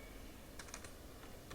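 A few quick keyboard clicks while typing on a computer, entering a title into a spreadsheet data validation error alert box; faint, sparse taps over a quiet room hiss, no voices.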